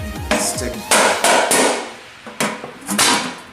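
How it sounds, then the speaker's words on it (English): A pointy screwdriver struck against the metal lid of a paint can to punch a hole, several loud close hammer blows in an uneven series with ringing decays between them. "I'm just going to take a pointy screwdriver and"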